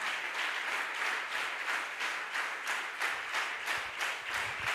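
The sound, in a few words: congregation applauding and cheering for the Lord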